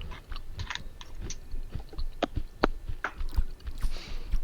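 Crunchy chewing close to the microphone, with irregular crisp bites and munches repeating across the span and no talking.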